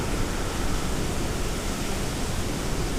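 Heavy rain from a severe thunderstorm, heard from indoors, makes a steady, dense broadband hiss with no breaks or distinct drops, loud and even throughout.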